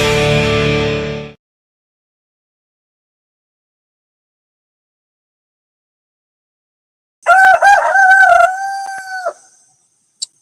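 Alamo the rooster crows a single loud, close cock-a-doodle-doo after a stretch of silence, following a brief burst of music at the start.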